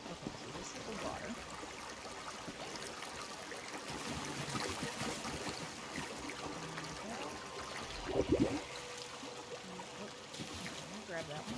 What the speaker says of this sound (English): Okay, so this is the water.